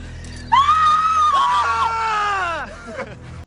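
A man's drawn-out, mocking scream from the 2002 film Ted Bundy, loud and close, wavering in pitch as it rises and trails off over a few seconds before cutting out abruptly.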